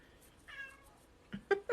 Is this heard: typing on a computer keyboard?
no